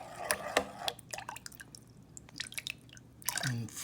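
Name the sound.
filling jar with olive oil and vinegar for eggplant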